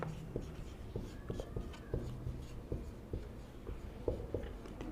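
Chalk or marker writing on a board during a thermodynamics lecture, a series of irregular scratchy taps and short strokes, close and fairly quiet, with no talk.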